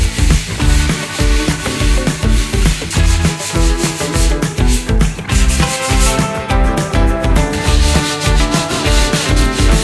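Steady, rhythmic sanding of dried wall filler while repainting a room, a continuous close rasping scrape with regular back-and-forth strokes and no talking.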